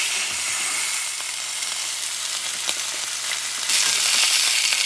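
A thick pepper steak fries in a hot pan, a steady broadband sizzle that swells louder near the end, close and continuous with no talk.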